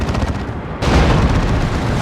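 Battle Wagon guns in Dawn of War 2 open up in a loud, sudden burst of booming game gunfire that cuts in partway through and rolls on as a dense, continuous barrage.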